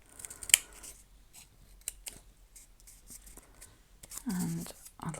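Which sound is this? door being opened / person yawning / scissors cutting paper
scissors cutting paper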